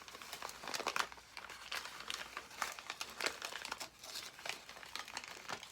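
Paper crinkling and creasing close up while being folded toward the folder for a job binding, a steady run of crisp rustles and sharp crackles with no voices.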